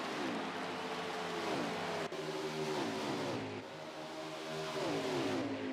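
Race cars at Darlington, among them a 98 Ford Mustang, roar past the start-finish line in a dense stream of revving engines, loud and sustained, with pitch sweeping as each car goes by.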